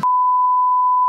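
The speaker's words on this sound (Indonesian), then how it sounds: "Apa handphone lu bunyi tuh?" A mobile phone giving a single steady electronic beep, one clean, loud, unbroken tone lasting about a second with nothing else around it.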